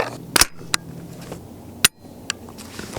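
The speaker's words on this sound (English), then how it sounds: "when the gun goes click, that means you did not load around" Sharp metallic clicks of an unloaded rifle being dry-fired, a few isolated snaps close by in a quiet room.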